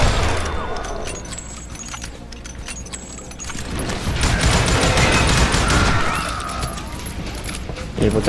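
Rapid gunfire from the Western shooter game Call of Juarez, with dense overlapping shots and booms throughout, steady and loud, with no voices.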